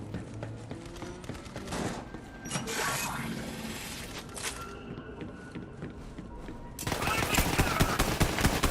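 Gunfire in the video game Borderlands 3: dense mechanical bursts and rapid crackling shots through most of the stretch, with a louder, denser barrage swelling near the end amid game noise.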